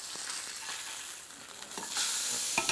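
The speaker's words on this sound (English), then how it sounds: "So now this is seared a little bit. We'll go ahead and give it a flip." Triggerfish searing in a hot pan makes a soft, continuous sizzle with a few light clicks and a brief swell near the end, quiet and close with no talk.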